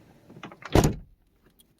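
The driver's door of a 1997 Mercedes SL600 with a faulty window that fails to drop, closing in a single short, solid thump close by, followed by near silence.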